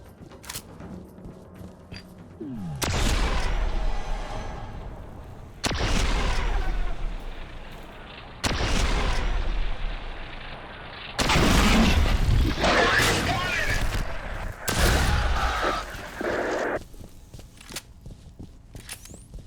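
Heavy gunfire in the horror shooter F.E.A.R. on extreme difficulty: several loud, separate bursts of shots and booming impacts spaced a few seconds apart, with a brief lull between each volley.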